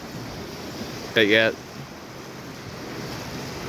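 Waves wash on the rocky Lake Superior shore at Artist's Point in Grand Marais, Minnesota, a steady surf and wind hiss, with a short spoken phrase partway through.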